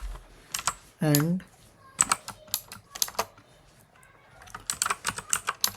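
Someone types code on a computer keyboard in quick clicking bursts, close and clear, with a brief spoken word partway through.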